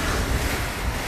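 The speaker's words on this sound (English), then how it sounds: "We've got a very strong northerly blowing here" Strong northerly wind roars over a rough, heavy sea around a small Corribee sailboat, steady broadband rushing of surf and gusts buffeting the microphone, loud and close with no voices.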